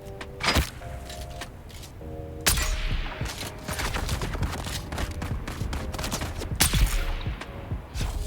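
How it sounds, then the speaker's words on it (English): Gunfire in the survival game Dune Awakening: sharp broadband shots burst out at intervals over a busy layer of game noise and a repeating tonal beep, some shots close and loud, others quicker and clustered. "Who else is shooting me?"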